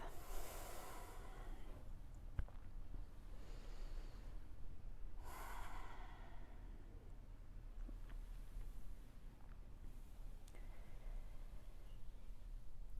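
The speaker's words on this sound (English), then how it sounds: "Really kind of smoothing out the inhales and exhales." Slow, deep yoga breaths, a few long airy inhales and exhales spaced several seconds apart, close to the microphone over a steady low hum, with no talking.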